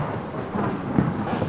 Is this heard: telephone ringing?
no